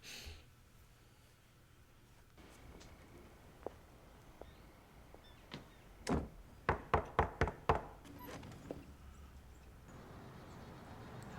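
Knocking on a door in the 1997 film L.A. Confidential, a quick series of five or six firm raps in the middle of a quiet room ambience, preceded by a few faint isolated taps.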